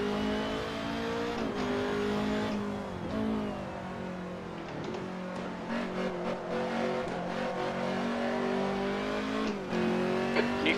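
Race car engine in a racing video game, a loud continuous high-pitched whine rising and falling through repeated gear shifts, with occasional tire squeal and no talking.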